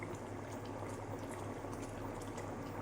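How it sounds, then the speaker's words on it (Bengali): A Bengali katla fish curry in a creamy gravy with split green chillies simmers in a pan, a steady bubbling and hissing boil, close and even throughout with no talk. "এবার আমরা জাস্ট 2 থেকে 3 মিনিটের জন্য এটাকে ঢাকা দিয়ে ফুটিয়ে নেব।"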